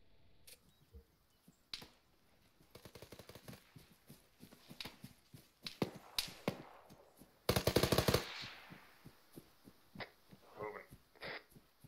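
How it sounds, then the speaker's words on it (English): Rapid bursts of automatic gunfire from the battle royale game PlayerUnknown's Battlegrounds, several scattered volleys at mid distance with one loud, dense burst near the middle, mixed with footsteps and game noise. "Did I just hear shots behind us?"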